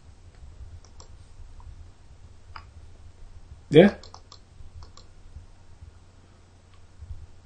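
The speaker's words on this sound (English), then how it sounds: "Stop clicking, Kieran." A single sharp click sounds up close, standing out once from a low steady hum, with a brief spoken word nearby.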